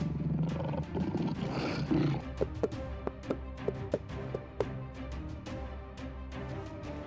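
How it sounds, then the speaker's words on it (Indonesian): A tiger growls and roars at the start, followed by a run of sharp, evenly spaced taps or thumps, all close and loud with no voices. "Tiba-tiba, seekor harimau berlari ke arahnya."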